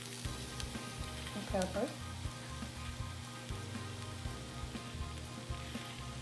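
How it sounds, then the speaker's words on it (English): Potatoes fry in a small pan with a close, steady sizzle and crackle, and a voice speaks briefly over the cooking. "I'm gonna put them in this little pan right here for them to fry."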